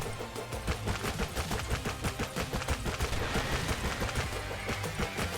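Rapid gunfire pounding a boss's armor in the shooter game Hypergun, a dense, steady stream of loud shots with thuds and impacts filling the whole stretch, no voices.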